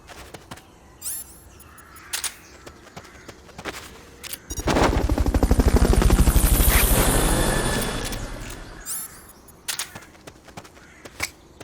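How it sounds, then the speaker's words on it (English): Helicopter in the video game Metal Gear Solid Peace Walker, a loud, steady rotor chop that swells in for several seconds and then fades, set between sharp game sound effects. "Fulton recovery subject confirmed onboard helicopter."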